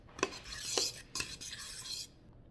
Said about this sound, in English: Now I'm going to mix this with my banana mixture.